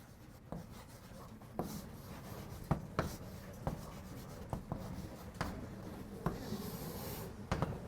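Chalk scratching and tapping on a blackboard during a university calculus lecture, a steady run of short strokes with sharp taps roughly every second, close and moderately loud with no talking.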